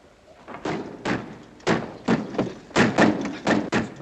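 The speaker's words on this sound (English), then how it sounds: "Dick, lock the door" Series of heavy knocks and thuds from a wooden door being shut and secured in a wartime Philippine hideout, about eight loud impacts in uneven rhythm, close by, with no speech over them.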